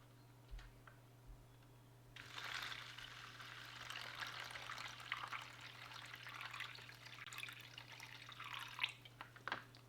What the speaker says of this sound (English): And then you just take your water bottle and add water to the line